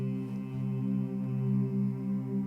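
A G tone sung and played on guitar together as the fifth in the key of C, one steady sustained pitch held softly and close, gently pulsing throughout.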